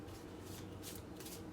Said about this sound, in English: we shuffled